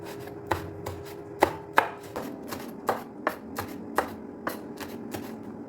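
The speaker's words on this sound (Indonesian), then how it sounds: "saya menggunakan cabai hijau sama cabai rawit diiris-iris serong" Green chilies and bird's eye chilies being sliced diagonally with a knife on a board in a village kitchen, a series of about a dozen crisp, close chops at an uneven pace, with no talk.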